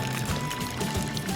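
Water poured into a mixing bowl for cupcake batter, a steady soft splashing pour heard close and moderately quiet, with no talking.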